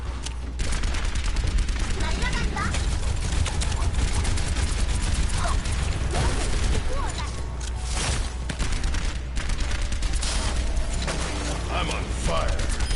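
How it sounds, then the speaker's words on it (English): A rocket barrage firing in the video game Overwatch sets off a dense, continuous storm of explosions and rapid gunfire lasting many seconds. Mechanical battle clatter runs through it, and character voices call out over the chaos. "Rocket barrage incoming."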